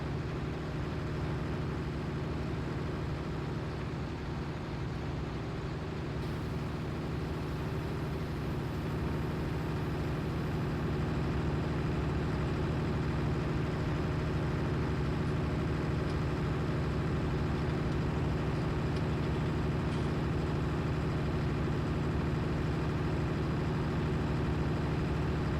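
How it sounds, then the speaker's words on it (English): Tractor engine in Farming Simulator 19 pulling a baler uphill, a steady low droning hum held at constant load throughout, moderate and unbroken, with no talk. "Got a tractor with some decent power to it. Baler here going up the hill."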